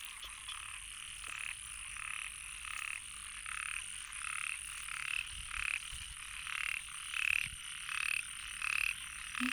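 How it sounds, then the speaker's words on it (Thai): Little frogs croak in the rain in regular pulsing bursts, a rhythmic chorus repeating roughly every second, fairly close, with no voices. "ลูกกบน้อย"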